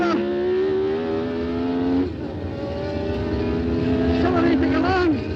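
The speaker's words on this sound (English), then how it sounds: "Car understeers a bit, applying the power." Onboard a 1992 Formula 1 car, the high-revving engine howls steadily with a sharp pitch drop at a gear change, then climbs again, loud and close, while a voice talks over it.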